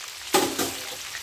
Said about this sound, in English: just flipping them occasionally in your hot oil